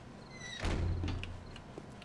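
A pair of doors in a survival video game swing shut with a single heavy thunk, leaving a short low rumble that fades away.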